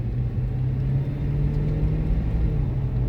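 Steady low rumble of a car engine heard from inside while driving, a constant droning hum with no speech over it.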